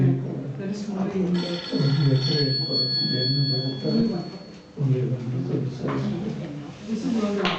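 A mobile phone rings with a thin, steady electronic tone during a satsang in Bangalore, partly buried beneath people talking close by.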